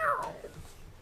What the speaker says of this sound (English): Suddenly, frantic squeakings alert Graham to a mangy cat chasing a terrified rat.